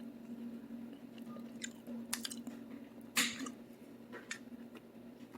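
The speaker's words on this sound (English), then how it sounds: "Let's give some of this asparagus and corn a taste." Close, soft chewing of grilled asparagus and corn from a hanger steak meal, quiet moist bites and crunches with one sharper crunch near the middle, no talking.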